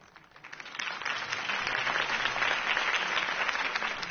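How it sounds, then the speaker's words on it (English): Audience applause after a campaign speech for the mayoral race in a city: a dense wash of clapping swells quickly from a faint start and holds steady and loud to the end. "If only Mr. Wayne, my campaign's largest backer, could have heard that applause"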